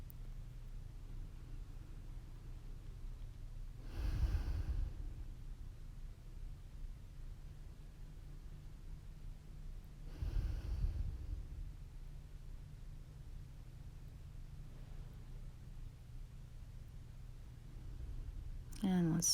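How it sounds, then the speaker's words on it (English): Two slow, soft breaths during a bedtime yoga session, spaced about six seconds apart over a quiet hiss, gentle and close with a faint click at the end. "A few more breaths here."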